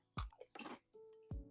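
Crunchy Filipino shrimp-flavored snack being bitten and chewed up close, with a few sharp crisp crunches separated by short pauses in an otherwise quiet room.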